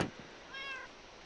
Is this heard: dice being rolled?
no